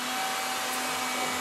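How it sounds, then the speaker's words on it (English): An Electrolux Ergorapido stick vacuum cleaner runs with a steady, close, high-pitched motor whine and airflow roar, unbroken and alone. "So you turn the vacuum on,"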